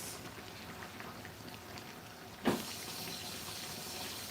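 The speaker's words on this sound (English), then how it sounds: "I'm just adding some water in my rice." Water pours into a pot of rice being cooked for a boiled soup, a soft steady trickle followed by a sudden louder splash midway, then a continuing gentle pour, close and alone.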